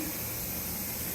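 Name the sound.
steam venting from a Nesco smart pressure canner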